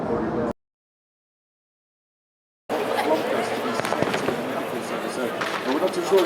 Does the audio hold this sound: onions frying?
no